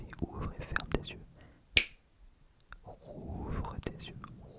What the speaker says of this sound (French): Les seules choses que tu comprends, c'est mes claquements de doigts qui signifient ouvre et ferme tes yeux